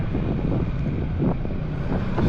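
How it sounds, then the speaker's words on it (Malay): Strong wind buffets the microphone while riding a motorbike on a food delivery run, a steady loud low rumble with gusty swells throughout and no speech. "angin tengah kuat sangat"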